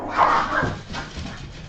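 A pet dog named Bucky whimpers and gives a short bark or yip, close by and moderately loud, with a brief vocal burst followed by softer whining.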